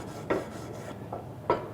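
A wire brush scrubs a steel butt weld, giving a few short scraping strokes at an uneven pace, close and moderately loud, with no talking.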